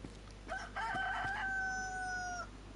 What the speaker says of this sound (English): Hear a chicken as well, actually.